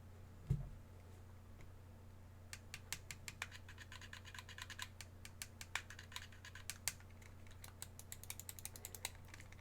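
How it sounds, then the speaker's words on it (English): Sharp mechanical clicks from the buttons of a Razer Kishi V2 mobile gaming controller, a single early click and then a dense run of rapid, irregular presses, close and fairly quiet with no talking. "see, even the top button, that's clicky"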